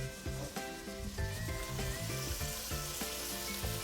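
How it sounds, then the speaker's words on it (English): Onions, garlic and shallot sizzle steadily in a pan, a continuous frying hiss beneath a looping melodic music track with regular beats. "We cook our onions and garlic together"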